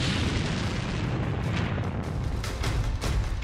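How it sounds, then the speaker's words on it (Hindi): A deep, continuous rumbling roar as a burning tank explodes after a Lancet drone strike in the Russia-Ukraine war, loud and sustained, with low booming energy throughout and no voices. "फिर हुआ ऐसा धमाका"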